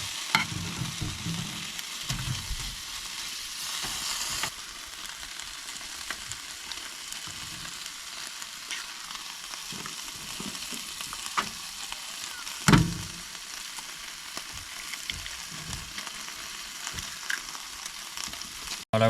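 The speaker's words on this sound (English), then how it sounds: "So I'm just going to put the bacon in the little pan." Bacon and eggs fry in a small pan outdoors, a steady low crackling sizzle with occasional scrapes and clinks of a utensil, fairly quiet and continuous.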